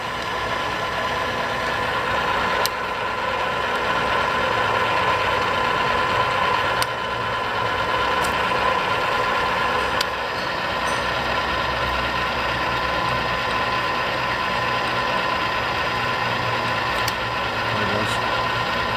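An Arboga radial arm drill, model RLM3508, runs with its feed engaged. A steady mechanical drone fills the scene, broken by a few sharp clicks as the feed gears drop into their ranges.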